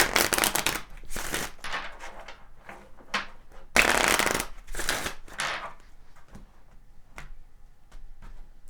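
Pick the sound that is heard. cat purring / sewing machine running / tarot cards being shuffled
tarot cards being shuffled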